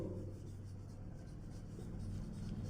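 Someone writes on a board, a faint continuous scratching and rubbing heard over a low steady hum, with no talking.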